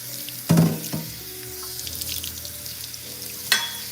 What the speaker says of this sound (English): everyday skillet that I'm using, that I'm cleaning